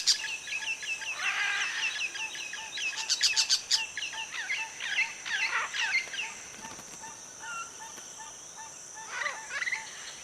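Wild macaw parrots calling from an almendro tree, a string of sharp, raspy squawks and chirps coming in clustered bursts over roughly ten seconds, fairly clear against a quiet background.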